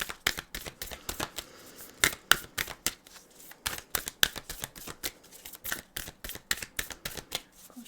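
Fortune-telling cards are shuffled steadily, a rapid run of crisp riffling snaps and taps close to the microphone, with no talking.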